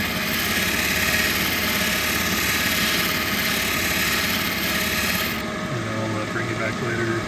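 A polishing wheel grinding against the raw edge of a SE Missouri agate, a loud continuous rasping whir that holds steady, then changes tone near the end as the stone comes off the wheel.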